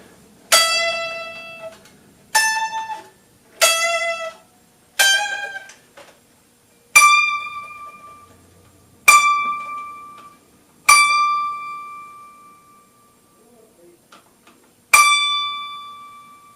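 An unplugged Stratocaster's E string, on a black limba body, is plucked eight times in a slow, regular series. Each pluck rings with a bright, bell-like tone that fades before the next, and the later notes sustain longer. No one talks.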